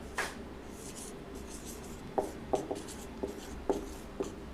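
Chalk or marker writing on a board during a class physics lesson: short scratchy strokes in irregular bursts, fairly close, with no talking over them.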